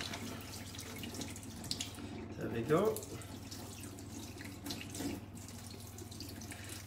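Tap water runs from a kitchen faucet into a bowl, a steady low rush with a brief louder surge midway, while a person talks over it during a live cooking demonstration.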